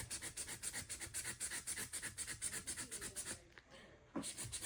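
Rhythmic scraping strokes from cutting away plastic around Lionel Fastrack model train track. The close, rasping back-and-forth runs steadily, pauses briefly, then resumes.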